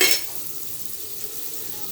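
Butter sizzling as it melts in a hot pan for a quick bun breakfast, a soft burst at the start settling into a steady, close, continuous hiss with faint stirring, no voices.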